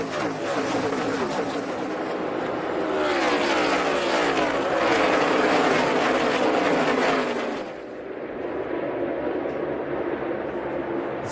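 NASCAR stock cars roar around the Brickyard 400 at Indianapolis in 2014, a loud, continuous engine drone with rising and falling pitch as cars sweep past close by, swelling and then easing off.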